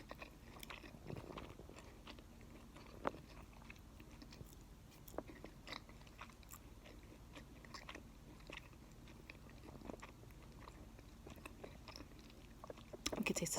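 Close chewing of sushi made with smoked salmon pieces, soft crunches and wet bites repeating irregularly at a quiet level, with no talking.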